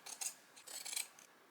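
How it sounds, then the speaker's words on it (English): Large scissors trimming a fabric seam on a crazy quilt rice bag, several quick close, quiet crisp snips in a short irregular run. "I'm just going to trim this seam back with the big scissors"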